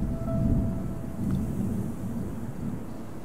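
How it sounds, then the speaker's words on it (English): Rain and rolling thunder in the ecological strategy game Terra Nil, deep rumbles swelling and fading over a soft, steady patter of falling rain, with a faint tone at the start and no voices. "Here we go. It starts raining."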